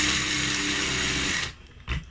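A kitchen blender grinds egusi seeds with a loud, dense motor whirr for about a second and a half, then cuts off, followed by a brief shaking rattle.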